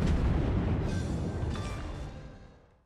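A warship's heavy guns fire in World of Warships, a loud, deep boom at the start that rumbles and fades slowly over a few seconds, with a second, smaller blast partway through.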